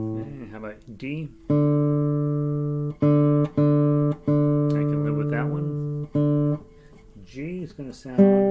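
A guitar's D string is picked again and again while being tuned, giving several loud sustained notes that ring and fade one after another, with short bits of speech before and after.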